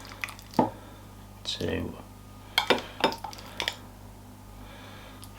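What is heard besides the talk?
spooning mince fruit and suet mix into bowl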